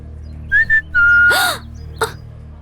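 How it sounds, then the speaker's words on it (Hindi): A man whistles at a girl in a flirtatious way: two short rising chirps, then a long sustained whistle, with a brief swoosh and a soft click following. The whistles stand out loud and close, and no one talks. "लड़के लड़कियों को पटाने के लिए सीटी बजाते हैं, उसी तरह मैंने तुम्हारे लिए बजाई"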